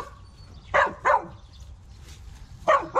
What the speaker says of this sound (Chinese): 早上刚起来，锄头就被几只小狗给围攻了